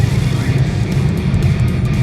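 A BMW M4 under hard acceleration, a loud, close, steady engine roar held throughout.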